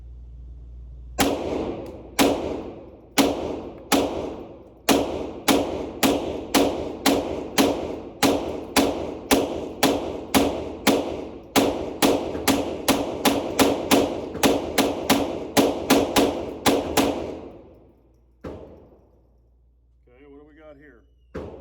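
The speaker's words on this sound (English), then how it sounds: "turn the safety off, and I'm gonna shoot, see how we go" A Kel-Tec CP33 pistol fires a long string of sharp, evenly spaced shots, roughly thirty cracks in quick succession, loud and close, then the firing stops and a brief voice and faint rattle follow.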